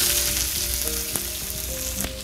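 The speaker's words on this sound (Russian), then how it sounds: "Опускаем лук." Chopped onion dropped into well-heated oil for a Tatar noodle plov, sizzling and crackling steadily and loud up close, with a few sharper pops and bursts across the frying.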